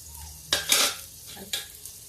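Ginger, chili and cumin hit hot oil in a pan and are stirred, giving two loud bursts of sizzling with scraping between them, close and with no talk.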